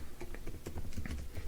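Fingers type on a computer keyboard in a brief, quick flurry of soft, close clicks and taps, with no talking.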